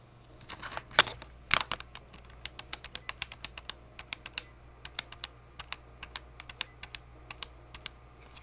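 Computer keyboard being typed on in irregular bursts of crisp, close clicks and key taps, a quiet hum beneath and no talking.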